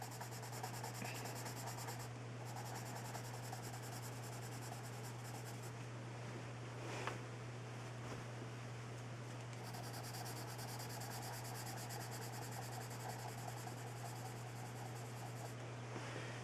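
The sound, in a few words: pencil drawing a shadow on paper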